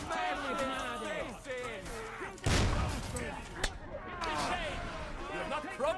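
Gunfire in a battle in Kingdom Come: Deliverance II, with a single loud, sharp burst midway and a few fainter cracks around it, heard under frantic shouting voices that fill most of the clip.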